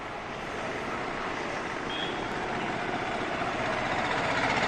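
Vehicles move along a city street in Uttar Pradesh during the coronavirus lockdown, making a continuous broadband traffic roar with engine rumble that stays steady and slightly swells, with no talking.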